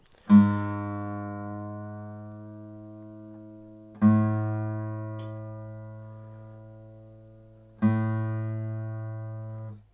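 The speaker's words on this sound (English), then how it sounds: "Now we move on to the A string, which is the second string from the top, also known as the fifth string" Guitar A string, the fifth string, being tuned in three separate plucks about four seconds apart, each a clear ringing tone with rich overtones that slowly decays.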